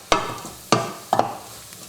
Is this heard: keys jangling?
no